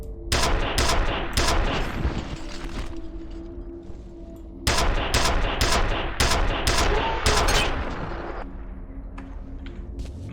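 Loud, close bursts of rapid automatic gunfire in the retro shooter F.E.A.R., two long volleys of sharp repeated shots separated by a brief lull, with no talking.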